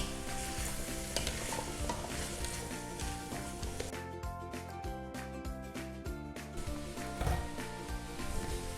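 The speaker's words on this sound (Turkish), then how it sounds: "Şimdi hepsini biraz kavuruyorum." Steady loud sizzling of vegetables for pumpkin soup frying in a hot pot, with occasional stirring scrapes, and no voices.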